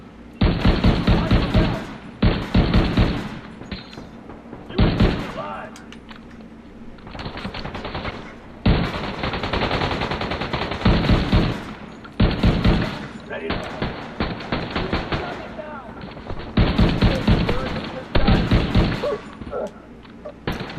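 Repeated bursts of weapon fire in the shooter game The Division 2, loud and close, coming in rapid volleys separated by short pauses with some game background between them.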